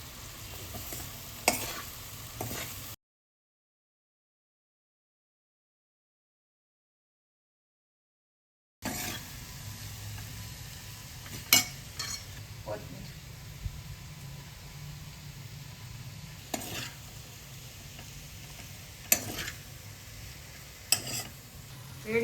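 Vegetable pulao being mixed and fried in a pan with crushed pepper, a quiet sizzle with occasional sharp clicks of a spoon against the pan, interrupted by a stretch of silence.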